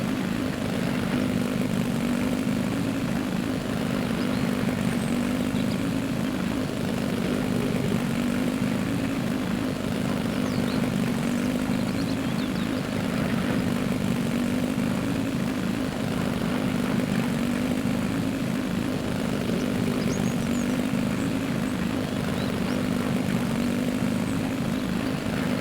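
Constant droning engine of an ATV in the video game Mist Survival, a steady buzzing hum held at an even loudness throughout the long drive with no voices.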